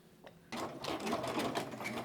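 Domestic sewing machine stitching a reversible fabric bag, starting up after a brief pause and running in a steady, fast mechanical whir with rapid rhythmic needle ticks, close and continuous.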